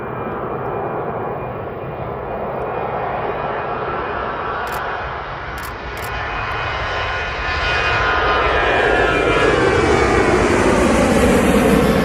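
Jet2 airliner departing Manchester Airport for Fuerteventura, a loud, continuous engine roar swelling as it builds power on its takeoff roll, heard without talking.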